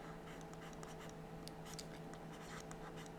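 Numbers are written on a board, producing quiet, repeated scratchy strokes in short bursts over a faint steady hum, with no voices.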